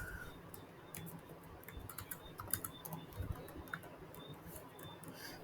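Rapid, light keystrokes on a computer keyboard while code is entered in R software, an uneven patter of clicks close by over a quiet background, with no speech.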